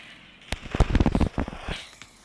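A quick cluster of bombs bursts in the video game Surviv.io, a sharp crackling volley of several close pops and bangs over about a second, fading into quiet room tone.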